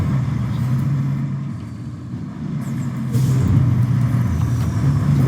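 Off-road vehicle engine in the video game Roadcraft, a steady low drone that swells slightly in the second half, with no talking over it.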